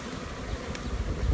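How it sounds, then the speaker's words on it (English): Honey bees clustered in a shipping package of roughly seven to ten thousand, giving off a steady, close, low buzzing hum with a brief airy rush partway through. "And here's a buzz."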